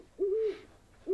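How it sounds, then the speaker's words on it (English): A large horned owl hoots in the Colossal Cave Reimagined video game, two long, smooth, low hoots, the second cut off at the end, fairly close and clear with no talk. "That's a big owl, isn't it?"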